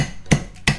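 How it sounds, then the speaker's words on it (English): A cup pressed down on biscuits sealed in a Ziploc bag, giving two dull, close thuds with a faint crunch, spaced about a third of a second apart. "I will simply be using this cup to mash it up"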